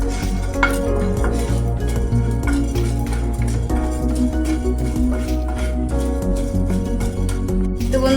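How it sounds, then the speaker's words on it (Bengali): Rice dry-roasting in a pan for homemade sambar masala, stirred steadily, with continuous close scraping and light metallic clinks of the utensil against the pan throughout. "এখন দিয়ে দিচ্ছি চাল চালটাকেও ভালো করে ভেজে নেবো"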